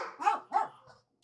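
Two quick dog barks ring out close by in a short double burst, fading into a softer trailing yip before silence.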